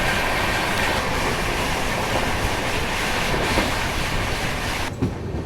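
New Delhi–Bilaspur Rajdhani Express running at speed, a steady loud rumble of wheels and carriage with faint rhythmic clatter throughout, heard from inside the train without talk.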